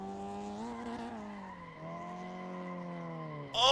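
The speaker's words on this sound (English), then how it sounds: "So we're gonna go ahead and drift the Miata really quick." Mazda Miata in a racing sim video game, a steady engine drone with a rising then dipping pitch as the car drifts, and a sharp tire skid bursting in loudly at the very end.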